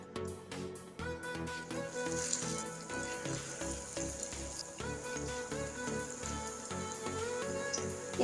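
A lentil and potato snack frying in a little oil over low heat, a faint, even sizzle under louder tuneful background music throughout.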